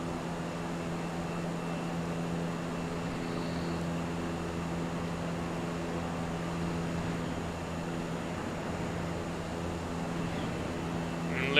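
Steady drone of a light aircraft engine in Microsoft Flight Simulator 2020 approaching Launceston Airport, a constant humming tone with no talk.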